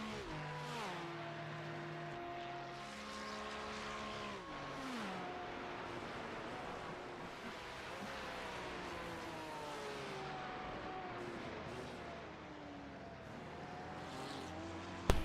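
Race cars circle the Nürburgring in iRacing during a 24H Series esports six-hour race, with Porsche 911s among them: several engines rev and shift through gears in overlapping rising and falling whines, steady and fairly close, with no talk.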